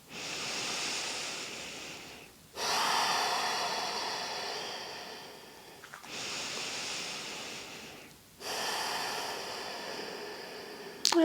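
Deep breaths during yin yoga, four long airy inhales and exhales in slow alternation, each a loud breathy rush heard up close with short pauses between, and no talking.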